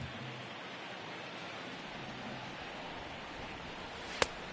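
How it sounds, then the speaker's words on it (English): Heavy rain pours steadily in the MLB The Show 19 baseball video game, a dense, even hiss with no voices, broken near the end by one sharp click. "This has got to be the hardest rain we've seen all afternoon."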